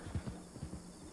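A video-game horse's hooves clip-clop in a quick run of about five soft, muffled steps, close and even, with no talk over them.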